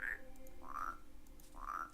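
Three soft, evenly spaced croaks from a frog in the video game Rusty Lake Paradise, faint and short over a quiet background.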